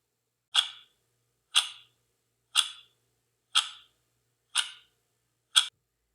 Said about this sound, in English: the next example is a clock ticking